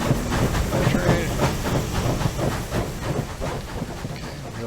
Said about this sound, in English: And then, there's the train.